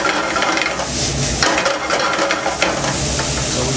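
Bacon frying in a pan, a steady close sizzle with occasional scrapes and stirring of the pan bottom, loud and continuous with no voices.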